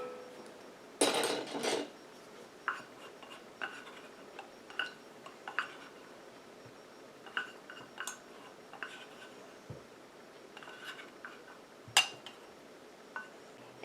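A utensil clinks and taps against a container while an oil phase and a water phase are stirred together for a mallow hand repair cream, with irregular light ticks and one louder rattling scrape near the start.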